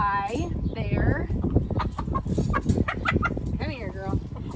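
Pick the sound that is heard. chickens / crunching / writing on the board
chickens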